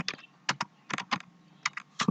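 Typing on a computer keyboard, with irregular bursts of close, crisp key clicks separated by short pauses and a louder cluster of keystrokes at the end, with no talking.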